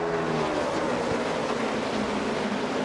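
A field of NASCAR race cars accelerates at a restart, with a dense, continuous engine roar that stays loud and unbroken.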